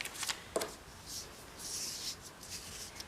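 Pieces of tape are torn off and handled on a paint-mixing work surface, giving a few short faint rips and crinkly rustles with quiet gaps between them.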